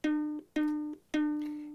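Single plucked ukulele note at the second fret of the third string, sounded three times in slow succession, each ringing clearly and decaying, close and alone.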